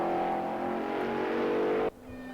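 Race car in a racing video game at the Red Bull Ring, loud engine roar with rising tone as it comes around a corner and passes, then cutting abruptly to a quieter hum.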